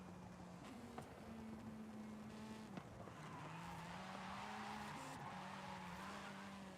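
Racing video game car drifting, engine droning steadily with a rising and falling pitch while tires squeal and skid through a long slide, continuous and fairly loud.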